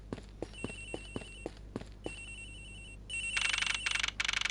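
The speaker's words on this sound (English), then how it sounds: "Sounds like the phone is up in the flight attendant's room." A telephone rings up in a flight attendant's room aboard a plane in Ace Attorney Investigations, with a faint repeating electronic tone among sharp ticking clicks, then a loud, rapid, trilling ring bursting in near the end.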